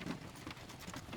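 Horse hooves clip-clopping in a quick, steady rhythm in The Unicorn Princess video game, fairly faint and with no one talking.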